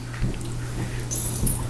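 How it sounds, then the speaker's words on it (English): Dogs in the Savage Rifts tabletop game session make brief, faint whimpering and snuffling sounds over a steady low hum, with no clear barking. "Captain's busy with his dogs."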